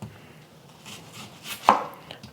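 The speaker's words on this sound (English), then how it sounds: "Also using an onion, we're just gonna slice this up." A knife slices through an onion on a cutting board while ingredients are prepared for coconut pork adobo. One crisp, close cut stands out, with fainter knife taps around it and no talking.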